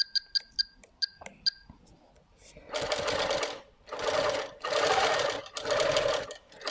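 Handi Quilter Moxie XL 18-inch longarm quilting machine stitching at high stitches per inch, a steady mechanical whir running in several long bursts with brief pauses, preceded by a few sharp clicks and faint voices.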